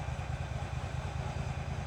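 A Kohler engine on an old tractor idles close by in a steady, low, even chug with a light mechanical clatter on top.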